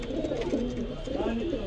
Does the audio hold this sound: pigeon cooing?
yes